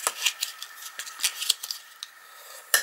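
A bone folder is drawn along folded card for a craft box, making a series of short, crisp scraping strokes and clicks at an uneven rhythm, close by and fairly quiet.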